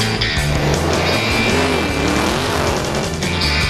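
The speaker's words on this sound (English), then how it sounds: "the fast-paced, rubber-burning excitement of racing dragsters" Dragster race cars roar hard under acceleration on asphalt, a loud, continuous, dense engine blare with a rising tonal whine, close and dominating throughout.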